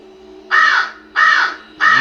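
Crows cawing loudly and close, three harsh drawn-out calls in a steady rhythm with short pauses between.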